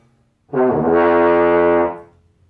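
A single sustained trombone C note, steady and loud for about a second and a half, rich in harmonics, then fading out.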